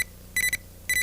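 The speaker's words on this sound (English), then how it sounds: "Oh, that's my beeper, Mr. Goldman." A beeper goes off with two quick bursts of high electronic beeps, each a rapid triple chirp, close and clear with no talk.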